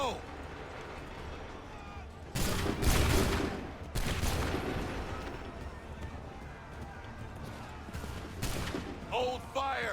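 Musket volleys crack out in Assassin's Creed 3, loud broadband bursts around two and a half, four and eight and a half seconds, each followed by a decaying rumble over battlefield noise and shouted voices.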